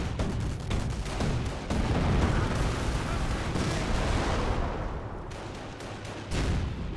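Rifle fire from Ranger infantry in the World War II strategy game Company of Heroes, sustained and dense, with overlapping shots and battlefield rumble running continuously at close range.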